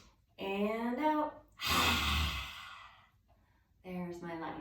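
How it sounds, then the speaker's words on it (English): A child's yoga class does lion's breath, a forceful breathing exercise. A long, rough exhalation swells and fades, set between short breathy voiced sounds and gasps. "There's my lion's breath"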